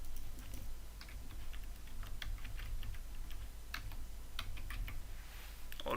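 Username and password typed on a computer keyboard, a quick irregular run of light, close key clicks over a low steady hum.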